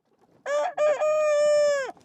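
A rooster on a Devon pasture farm raising soya-free chickens crows once, loud and close: a short clipped opening note, a brief break, then a long sustained cock-a-doodle-doo that trails off, over quiet background.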